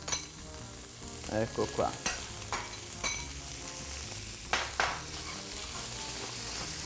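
Salt cod frying in a pan while being stirred and broken up with a spoon, a steady sizzle with several sharp scrapes and clinks of the spoon against the pan, close up, with a brief spoken phrase.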